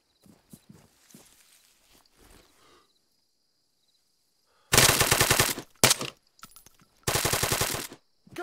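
Loud close bursts of machine gun fire in Arma 3 combat, two sustained volleys of rapid shots with a single short burst between them, following quieter footsteps and faint movement.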